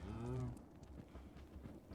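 A Minecraft cow gives a short low moo at the start, then only faint, scattered rustling and soft background noise remain.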